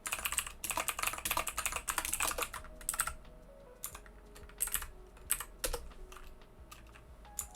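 Rapid, close clicking of computer keyboard keys in steady bursts with brief pauses, typed while programming.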